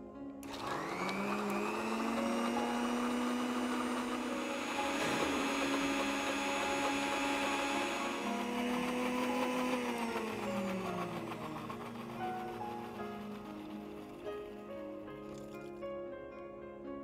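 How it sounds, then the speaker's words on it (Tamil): A kitchen mixer grinder runs continuously, grinding ingredients with a little water into a paste, its motor whine rising and then holding a loud, steady pitch before winding down, close up and with no talk over it. "இப்போ இதை நம்ம மிக்சியில் போட்டு பேஸ்ட் பண்ணி எடுத்துக்குவோம்"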